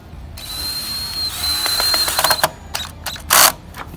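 Power drill driving screws through a board into a fence, heard as short, close whirring bursts with a steady mechanical whine, followed by a louder burst near the end.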